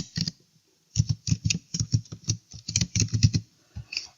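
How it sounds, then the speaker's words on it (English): Password being typed on a computer keyboard: a quick, irregular run of close, crisp key taps in short bursts with small gaps, no talking. "then type in the password for your account"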